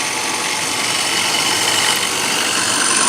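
A rotary attraction motor driving a flux gate generator through roughly 3.33 to 1 gear reduction at around 2,872 RPM, a steady bright mechanical whir and hum running continuously without change.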